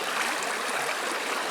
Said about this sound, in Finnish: joki lähestyy